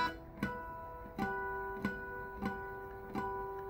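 Guitar string harmonics chimed at the 12th fret, a few bell-like ringing tones struck one after another at a soft, moderate level.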